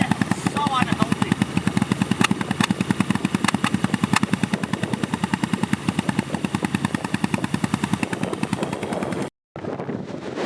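A BMW GS motorcycle engine runs after starting, a loud, rapid, steady mechanical chatter close by that holds for about nine seconds before cutting out briefly, then continues faintly.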